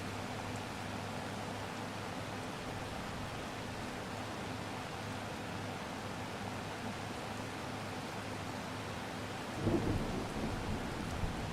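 A thunderstorm rolls over the open farmland of southwest Manitoba in Farming Simulator 25, steady heavy rain hissing throughout with a low rumble of thunder swelling briefly near the end.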